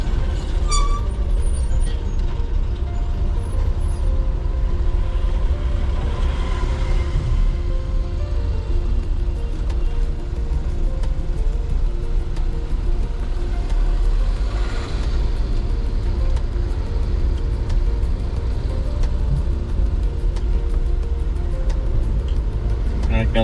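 Trucks and cars lined up in traffic at a road diversion, a constant low rumble of idling engines with occasional hissing brakes, steady and close, with voices talking over it.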